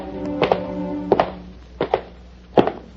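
Footsteps of duelists pacing apart in a comedy sketch, a handful of hollow thudding steps spaced unevenly, close and distinct with no talk over them.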